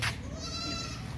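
A goat on a farm bleats once, a single close, fairly loud nasal wavering call with no talking over it.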